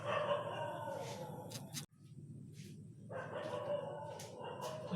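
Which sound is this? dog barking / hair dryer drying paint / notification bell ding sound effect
dog barking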